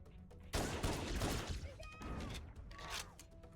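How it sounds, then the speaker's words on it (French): Rapid gunfire bursts from a small pistol in the Halo video game, loud and close, over a few seconds with a game voice beneath. "Faut que je reste sur le petit pistolet"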